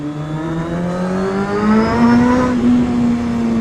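A motorcycle engine revs steadily and close, its pitch climbing slowly then holding, loud and alone with no talk.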